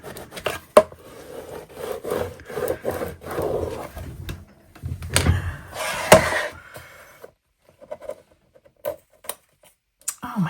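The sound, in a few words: scraping transfer tape down onto a Cricut craft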